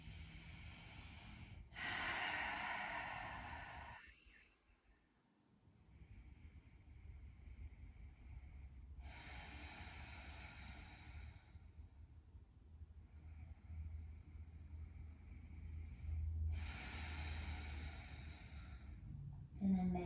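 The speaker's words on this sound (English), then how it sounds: "Taking a couple big breaths here." Deep breathing during lying-down lower-body yoga: a few slow, airy inhales and exhales a few seconds apart, close and fairly quiet over a low steady hum.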